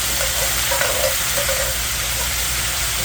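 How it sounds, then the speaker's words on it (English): Cherry peppers and their vinegar hit a hot pan to deglaze it, giving a steady, loud, broad sizzle that hisses without a break throughout, with no voices. "Now we're going to add our cherry peppers with a little bit of the vinegar in them. It's going to kind of deglaze the pan also."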